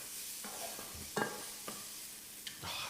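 Onions, garlic and ginger fry quietly in a pan on an induction hob, a soft steady sizzle broken by occasional scraping stirs and light clinks.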